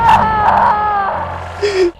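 A woman cries out in a recording, a wavering wail that rises and falls over two seconds before ending in a sharp, higher gasp-like cry.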